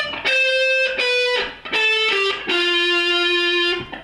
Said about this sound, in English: You're going to bend the 2nd string at fret 15 and then pluck it normally with no bend.